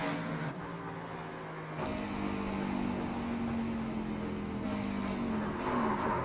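Race truck engines drone at Bristol in an iRacing truck series race, a steady rising whine with a sudden jolt and noise burst near two seconds as trucks collide, then continued revving.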